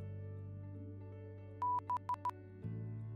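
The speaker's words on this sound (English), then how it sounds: "I'm doing some Morse code in here" Short electronic beeps tapped out in a Morse code pattern within a Pokémon Storm Silver game, one longer tone then three quick ones, clear over a low steady hum before a soft thump.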